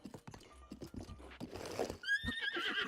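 A horse in the video game Breath of the Wild clip-clops with quick hoof beats, then gives a clear, fairly loud whinny with a wavering high pitch that carries to the end.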